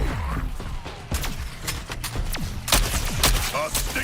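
Rapid gunfire rattles in the video game Suicide Squad: Kill the Justice League, with bursts of loud, dense shots and impacts packed close together and continuing throughout.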